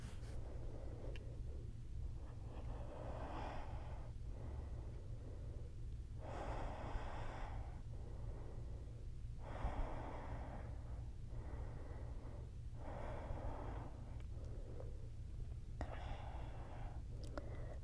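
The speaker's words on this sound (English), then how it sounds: "Take 3 slow and easy breaths here" Slow, deep breaths in crocodile pose during a gentle yoga session, close and soft. About six long inhale and exhale cycles come at an even pace over a low steady background hum.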